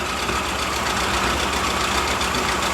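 A 1975 Volkswagen Super Beetle engine, revived after sitting for 20 years, idles on the choke with a steady, rough, close-up mechanical rumble that never pauses.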